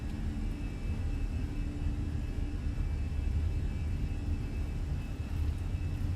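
Fenix A320 engines in Microsoft Flight Simulator spool at takeoff thrust, a continuous low rumbling roar with a faint whine above it, steady and sustained.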